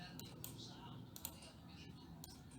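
Computer keyboard keys being pressed for a Ctrl+C copy shortcut, a few quick clicks over a brief stretch, close and fairly faint, with a voice talking underneath.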